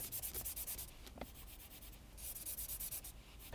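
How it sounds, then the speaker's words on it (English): Fingertips rub back and forth over rough faux-wood plastic trim on a 2024 Mazda CX-90 center console, giving a close, quiet, rhythmic scratchy rasp in short strokes with a brief pause midway. "It's plastic here because it's smooth, and here it's a little bit rough, and you can hear it."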